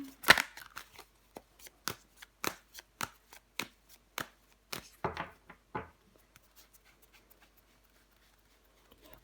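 Tarot cards are laid down one after another on a table in a series of crisp slaps and snaps, brisk at first and then slowing and fading to faint taps, with no voices.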